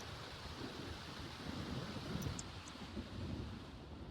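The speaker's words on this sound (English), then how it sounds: "I wish it would stop thundering, though." Thunder rumbling in The Sims 4 video game, a faint, continuous low rolling rumble with brief swells and no voices.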